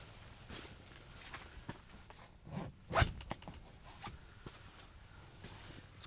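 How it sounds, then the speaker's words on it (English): A double zipper on a hot tent being zipped, a short quick rasp in the middle among soft rustling and footsteps, fairly quiet and close. "It's got double zippers, so you can zip down the top part if you want for some more airflow."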